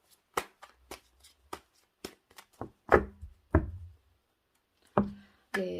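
A deck of tarot cards is shuffled by hand close up, giving a run of soft, irregular taps and riffling knocks that grow denser midway, then pause briefly before a final flurry.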